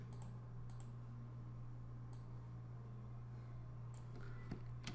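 A computer keyboard is tapped with a few separate keystrokes, as if for cut and paste commands in Photoshop, heard as sharp isolated clicks over a constant low electrical hum.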